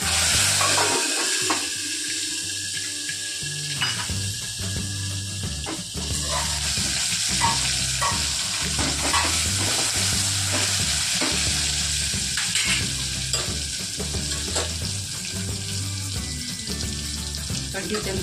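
Chopped capsicum and tomato sizzling in hot oil with asafoetida and curry leaves, a steady crackling fry with intermittent scraping and stirring of a spatula in the pan, close and continuous.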